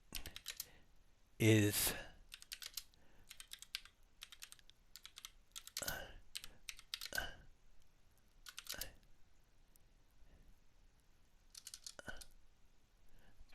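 Quick bursts of typing clatter on a computer keyboard, separated by pauses, with one louder clack near the start and a few words of speech.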